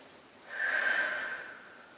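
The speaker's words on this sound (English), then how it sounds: "I'm gonna have you take a deep breath and then exhale" A patient taking a deep breath and exhaling during a head-to-toe health assessment, one smooth airy rush that swells and fades away close up, with no talking.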